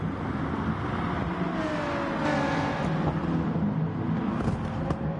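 BTCC touring cars racing around Catalunya in GT Sport, a steady dense engine drone of several cars close together with rising revs and overlapping whines.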